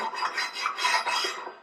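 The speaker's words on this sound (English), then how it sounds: "I'm going to take two tubes that are the same exact size, a piece of angle iron, and just scrape it across" Piece of angle iron scraped across two same-size steel tubes for a Ford Bronco roll cage, a close, raspy metallic grinding in several uneven back-and-forth strokes, alone.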